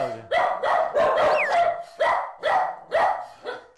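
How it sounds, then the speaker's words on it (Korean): Bonggu, a Bedlington terrier, barks repeatedly at a trainer in a home, with a burst of rapid barks followed by several evenly spaced, loud, close barks. "봉구가 그런 강훈련사를 향해 다시 한번 짖습니다"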